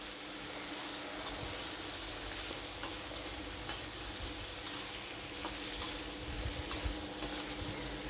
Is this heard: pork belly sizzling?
yes